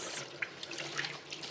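Tap water runs and splashes in a sink while rose hips are rinsed, a soft continuous trickle with a few brief wet splashes and clicks, close and fairly quiet.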